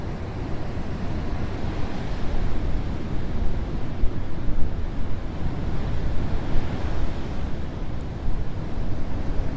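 Ocean waves wash steadily onto a California beach, a continuous, fairly loud broadband roar of surf with wind buffeting the microphone, with no voices over it.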